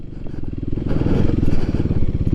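A Kawasaki KLX300SM on street tires, ridden through thick dirt with the throttle worked on and off; the single-cylinder engine drones close and loud, its revs swelling and easing in a throbbing pulse.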